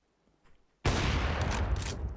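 A burst of gunfire from a Counter-Strike match on the Overpass map, erupting suddenly after a near-silent moment and roaring on loud and dense for over a second, with sharp cracks peaking through the wash of noise.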